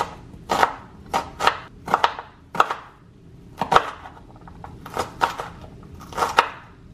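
A knife chops a quartered red onion on a board in about ten sharp, close knocks, landing in small uneven bursts with short pauses between them.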